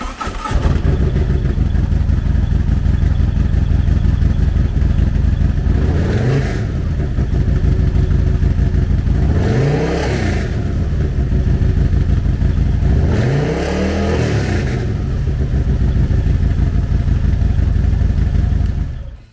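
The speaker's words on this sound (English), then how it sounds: "The Road Glide is powered by a 117 cubic inch V-twin motor, putting 125 foot-pounds of low-end torque through a 6-speed transmission." A 2021 Harley-Davidson CVO Road Glide with a 117 cubic inch V-twin idles loud and close with a steady lumpy rumble, blipped up through three rising-and-falling revs spaced a few seconds apart.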